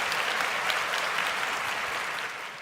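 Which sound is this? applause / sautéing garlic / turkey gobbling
applause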